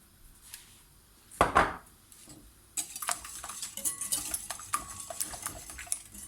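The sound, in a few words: mixing yogurt cake batter with sugar and salt in a bowl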